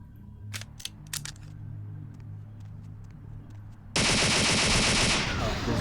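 Video game gunfire from Vampire the Masquerade Bloodlines: a few sharp clicks over a low hum, then a sudden loud sustained burst of rapid shots that runs to the end.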